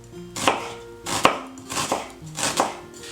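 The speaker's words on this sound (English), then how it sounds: "So first I'm going to start by chopping up the shallots here." A knife chops shallots on a cutting board, five or six crisp, evenly spaced thuds that land close and distinct, with quiet gaps between strokes and no voices.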